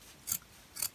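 Scissors snip twice through faux fur while trimming a fursuit tail, two short crisp cuts close up, evenly spaced and alone in a quiet room.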